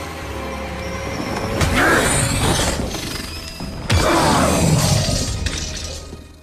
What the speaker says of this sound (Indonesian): Ed pun datang dan memecahkan kaca jendela agar sang master terkena sinar matahari